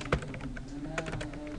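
Keys clatter on a computer keyboard while text is typed into Microsoft Word 2016, a close, quick series of light clicks with one sharper tap near the start.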